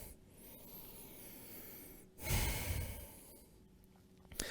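Soft, slow breathing during a pause in a yoga flow, a long exhale swelling in the middle with quiet rustling of movement, faint and close, no talk.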